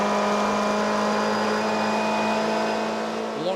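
Onboard engine of the No. 41 Sasol GTC race car roaring down the back straight at Killarney Raceway in Cape Town, a loud, steady high-revving drone that holds constant throughout with no talk.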